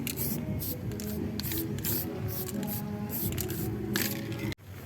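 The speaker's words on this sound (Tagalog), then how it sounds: "We just finished the first coating of the spray paint." Samurai aerosol spray paint hissing steadily onto a car body during a DIY paint job, a close continuous spray with brief pauses and bursts, ending in a short break.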